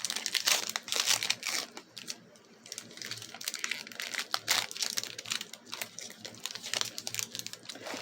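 A Magic: The Gathering Innistrad Crimson Vow collector booster pack is torn open by hand, giving quiet, close crinkling foil wrapper sounds in irregular bursts with brief pauses.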